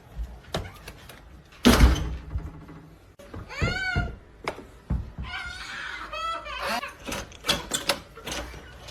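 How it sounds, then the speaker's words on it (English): A door opens with a sharp knock-like thud and rattle, followed by a squeaky creak. Brief voices and laughter sound around it in a household setting. "I will gladly help you open the door."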